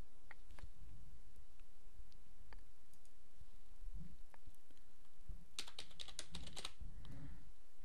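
Fingers type an agent name and password on a computer keyboard, with scattered quiet key taps followed by a quick burst of clattering keystrokes near the end.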